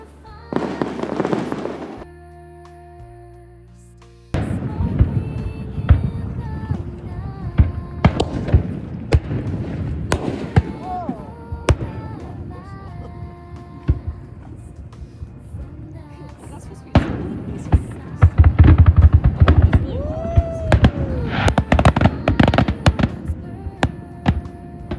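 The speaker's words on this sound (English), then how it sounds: "the night after, on the 6th, they had fireworks in Jamestown, Rhode Island" Fireworks bursting over Jamestown, Rhode Island, heard out on the water from a boat: a series of booms and crackling pops at irregular intervals, some sharp and close, others duller, with voices talking throughout.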